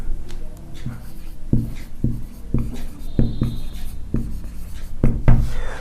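A marker squeaks and taps against a board while a word is written, with short rhythmic strokes and dull knocks, close and moderately loud with no voice.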